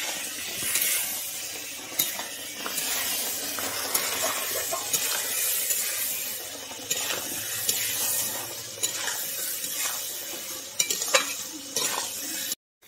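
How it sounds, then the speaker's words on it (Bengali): Taro (kochu) and prawns sizzle and fry in a pan while being stirred, giving a continuous close crackle with scraping strokes throughout. No one talks. "এরপরে দিয়ে দিচ্ছি কচুটাকে আমি ভালোভাবে কষে নেব।"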